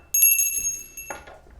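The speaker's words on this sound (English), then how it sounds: "I'm going to ring the bell to cleanse the energy for me and for you." A bell is rung once to cleanse the energy, a clear bright strike whose high ringing tones hang and fade over about a second, followed by a faint softer sound.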